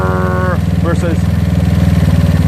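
A GY6 scooter engine fitted with a tuned OKO PWK 30mm carburetor runs with a loud, steady, close humming drone and a strong pulsing beat, while someone talks over it.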